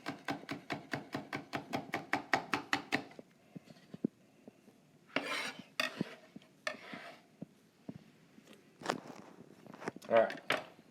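A knife chops ingredients for jerk chicken on a cutting board in a home kitchen: a fast run of even chops, then scattered scrapes, clatters and taps, with occasional speech in between.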